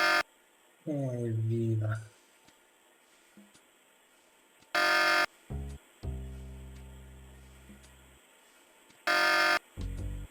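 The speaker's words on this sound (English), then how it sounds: "I get inside and pick the lock to the apartment. Immediately, an alarm goes off." A buzzing electronic apartment alarm in the video game Tex Murphy: The Pandora Directive sounds in three loud, steady bursts of about a second each, spaced several seconds apart, with a voice speaking briefly between them.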